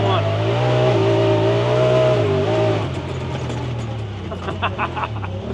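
A 2025 Honda Pioneer 1000 side-by-side drives along, its engine droning and revving loudly up close, then easing back to a lower rumble with rattles and bumps as the ride continues.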